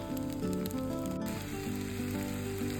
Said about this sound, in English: cracked one of our eggs that we bought this week. And we're just going to scramble this